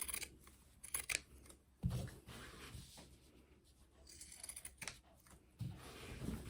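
Scissors snipping diagonal corners off paper for a handmade fold-up-pocket advent calendar, a few crisp close cuts spaced irregularly, quiet and clear, with soft handling noise between them.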